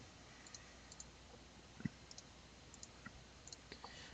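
Keyboard typing to search for items in Diablo 3, with faint scattered clicks and taps over a low steady background hiss, one slightly sharper tap near the middle.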